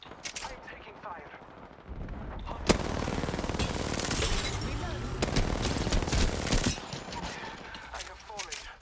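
Rapid gunfire in a shooter video game, dense bursts of automatic shots and sharp cracks, loud and sustained, with voices speaking over parts of it.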